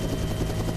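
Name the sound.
helicopter noise inside the cabin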